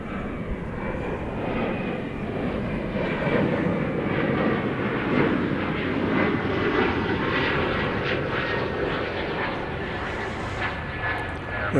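A Boeing 787 jet roaring on its takeoff run at DFW Airport, bound for Haneda, a loud sustained engine rumble with a rising whine heard from a distance and no talk over it.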